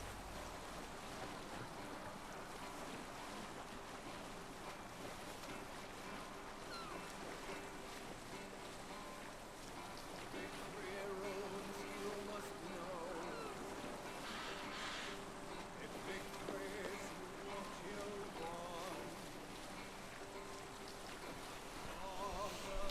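A sailing boat crosses the sea in Assassin's Creed Valhalla, a steady, full wash of waves, water and wind running without a break, with faint voices mixed in.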